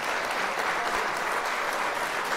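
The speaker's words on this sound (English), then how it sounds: "So, Kaila Love, one more time, round of applause before I let you get into your introduction." Steady applause from a studio audience welcoming a guest on a talk show, dense and continuous clapping filling the room without pause.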